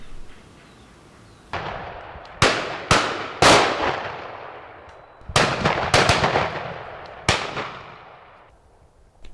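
Shotguns fired by neighbouring guns on a pheasant drive in Denmark, about seven sharp blasts at irregular intervals, each trailing a long rolling echo across open country.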